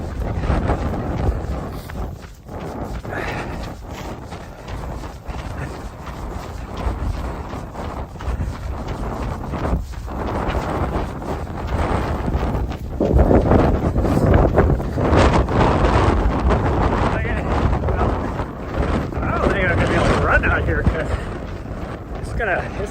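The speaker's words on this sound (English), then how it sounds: "Wow, wind is crazy." Strong wind buffeting the microphone during an outdoor run, a loud, continuous low rumble with gusty surges that swell and fade throughout.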